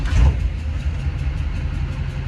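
A car engine in a garage idles after starting, a low, steady rumble with a brief louder burst at the start, then an even, close throb with no talk.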